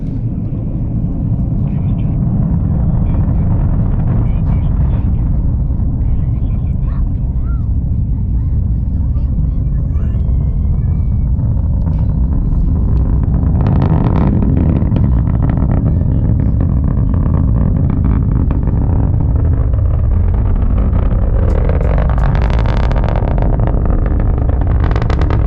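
Deep continuous rumble of a SpaceX rocket launch heard from a distance in Florida, a loud steady roar with broad low-end thunder that swells slightly near the end, and people talking over it.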